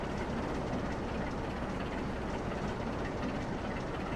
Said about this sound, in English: Decouple the loco and guard van.